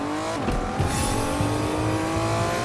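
A car in a Fortnite-style video game accelerates, its engine rising in pitch through a quick revving climb with a whoosh of boost, loud and close with no talk.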